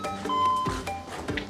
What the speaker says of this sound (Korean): 제가 초인종을 누르면